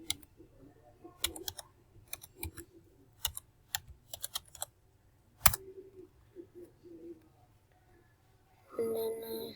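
Keys tapped on a computer keyboard in scattered, irregular clicks and short bursts, fairly close, with a brief murmur of talk near the end.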